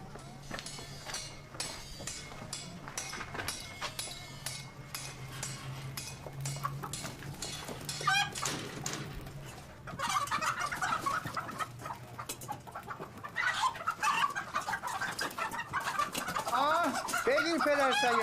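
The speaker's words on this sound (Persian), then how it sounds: "مرغ قربانی داری؟" Live sacrificial chickens cluck and squawk repeatedly at close range in a busy poultry shop, with people talking around them and a steady hum underneath.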